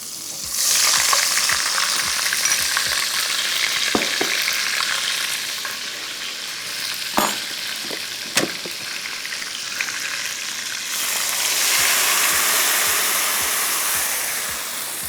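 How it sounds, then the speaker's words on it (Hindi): Unsalted butter hitting a hot pan and sizzling steadily and loudly, a close, continuous frying hiss with occasional clicks of a utensil, swelling again near the end. "ये हमारे पास है अनसॉल्टेड बटर, ठीक है, ये हम डाल देते हैं"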